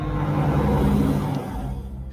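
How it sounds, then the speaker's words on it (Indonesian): A car drives past on the road right beside the recording spot, a loud, steady broadband rush with engine hum that swells and then eases off over about two seconds, with no voices. "ini mobil lewat karena memang di samping jalan"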